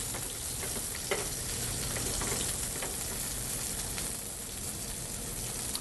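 Salmon fillet searing in a hot pan, a dense, steady sizzle and crackle running loud throughout with small pops, no voices.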